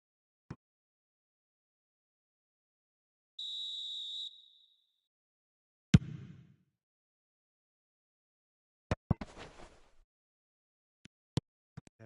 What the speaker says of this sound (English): And the whistle's gone, presumably for offside.